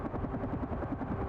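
Helicopter in the video game Carrion, a brief steady rotor chop with a low rhythmic pulsing throb, moderately loud with no talk.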